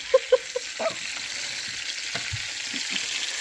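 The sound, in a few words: chicken pieces frying in lard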